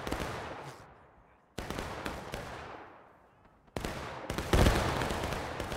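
Musket volleys in the video game War of Rights, three bursts of massed crackling gunfire, each decaying over a second or so with distant echoing tails.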